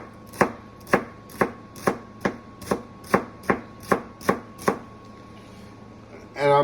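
Vegetables chopped with a knife on a board for shrimp and grits, a steady run of about a dozen evenly spaced, crisp thuds, close and clear, then a pause and a brief rustle at the end.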